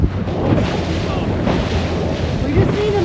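A big ocean roller surges under a sailboat, with loud, continuous rushing water and heavy wind buffeting the microphone, close and enveloping.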